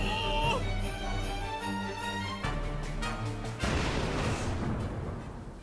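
Ship cannon fire at a tank in the video game Lost Odyssey, heavy booms and crashing impacts over a droning score, ending in a dense noisy burst of destruction.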